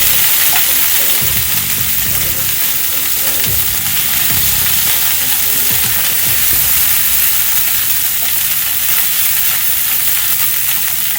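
Ginger garlic paste fries in a hot pan with a loud, continuous sizzle and crackle, and a few low knocks of stirring come through early on.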